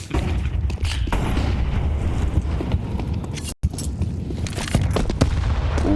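Grenade blasts and gunfire in a Counter-Strike esports match between Complexity and MOUZ, dense bursts of shots and booming explosions packed close together, loud and sustained with one brief silent gap midway.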